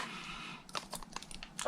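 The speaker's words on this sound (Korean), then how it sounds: "비닐을 벗겨서" Thin plastic film is peeled off a battery for a fishing lure light, giving a quick, close series of crinkly, crackling rustles after a short quiet moment.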